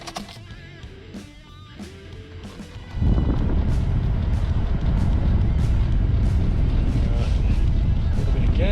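A boat engine running on dirty fuel cranks and catches at about three seconds, then holds a loud, steady rumbling idle close by, with wind buffeting the microphone throughout.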